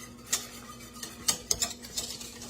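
A spoon or spatula scrapes and clinks against a pot of chocolate pie filling cooking on the stove at medium heat, in irregular light taps and scrapes with no one talking.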